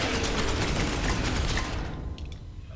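Rapid gunfire in the turn-based game Space Hulk Ascension, a dense rattling burst of shots lasting about two seconds before tapering into quieter mechanical clicks and decay.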